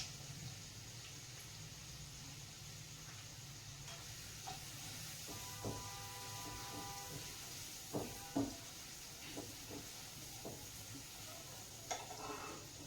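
Onions frying with a little turmeric in a home kitchen pan, a steady low sizzle with occasional clinks and scrapes of stirring, fairly quiet and without talk.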